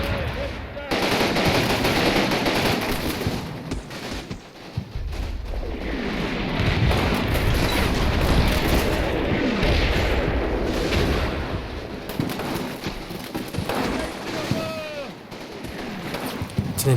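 Gunfire in a firefight in the Combat Mission Fortress Italy video game, set in Italy in January 1944: sustained machine-gun bursts and rifle shots with heavy artillery booms, dense and loud throughout, a voice faintly underneath.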